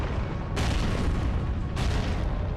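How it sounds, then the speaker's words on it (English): A deep booming explosion from the video game Resident Evil Code: Veronica, broad and rumbling, swelling in two surges with a heavy roar sustained between them, loud and without talk. "That was an explosion"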